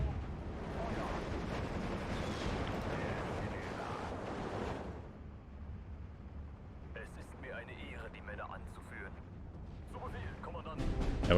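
Artillery counter-battery fire in the World War II strategy game Steel Division 2, a dense rumbling barrage of distant blasts that fades after several seconds, leaving lower battle noise with brief chirping game sounds.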